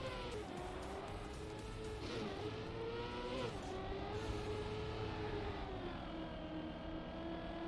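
A car drifting on dirt in a racing video game, its engine droning and revving continuously with shifting pitch and tire slide noise, loud and steady throughout with no voices.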